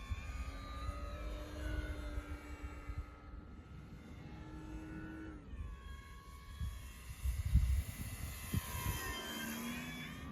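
A Cessna 182 light aircraft flies with full flap, its steady propeller engine drone close and continuous, with whining tones that shift in pitch and some rumbling buffets.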